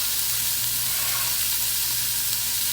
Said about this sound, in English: And now we're going to add our carrots.